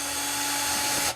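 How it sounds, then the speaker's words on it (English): A power drill whines at a steady high pitch while backing out screws from the back cover of a vintage budget Squier by Fender Stratocaster guitar, running close and loud, then cutting off abruptly near the end. "I'm going to just take off this back cover with a drill."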